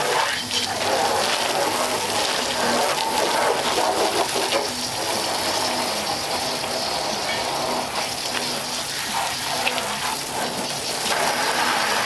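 Water sprays steadily over a 1934 Ford five-window coupe during a wash, a loud, continuous hissing gush with faint background voices mixed in.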